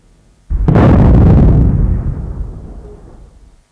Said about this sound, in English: the Fort Scratchley Historical Society dusted off its finest for a 4-gun salute